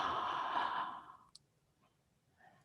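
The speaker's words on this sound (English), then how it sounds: "Maybe even opening your mouth as wide as comfortable and making an exhale." A person exhales through a wide-open mouth during a guided meditation, giving one long, soft, breathy sigh that fades out, followed by quiet stillness and a faint breath.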